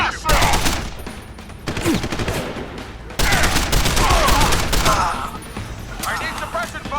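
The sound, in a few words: gunfire in the video game Deus Ex Human Revolution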